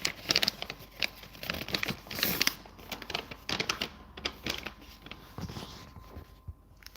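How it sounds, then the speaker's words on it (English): A paper letter being folded by hand, with close, quick crinkles, creases and rustles coming in irregular bursts for several seconds. "Let me fold my letter."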